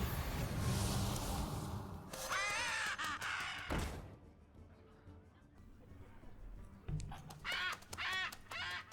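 Birds caw harshly again and again in the card game Hearthstone, with loud bursts of cawing, game effects and a cluttered mix of sounds in between.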